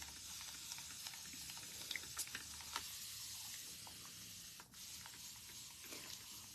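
Warm water misted from a hand sprayer onto fine grey curly hair, a soft continuous hiss with faint crackles and a brief louder spritz, quiet and close, without talk.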